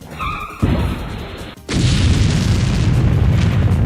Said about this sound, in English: I believe that was the sound of his helicopter